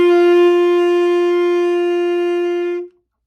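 A single sustained alto saxophone D note, steady and bright with rich overtones, held for nearly three seconds before stopping cleanly; no other sounds.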